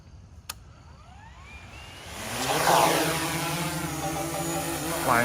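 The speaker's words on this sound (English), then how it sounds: "Let's go ahead and do a takeoff test of this drone." A DJI Mavic Air 3 drone spins up and takes off, its whine rising from a quiet start into a loud, steady propeller buzz with shifting harmonic tones as it climbs and hovers nearby.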